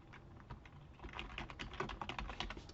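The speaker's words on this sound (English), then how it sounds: "I'm just going to type in my items" Rapid clicking of a computer keyboard as list items are typed into a Google Sheets cell, close and fairly quiet, with keystrokes speeding into a dense patter toward the end.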